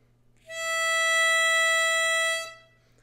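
A single sustained C note blown through one hole of a harmonica, steady and clear for about two seconds with a soft onset and fade, played alone.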